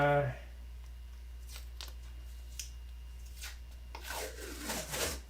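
A credit card rubbing down low-tack transfer tape on a model aircraft finish, soft scraping strokes that come and go under a steady background hum, with a louder rasping pass near the end.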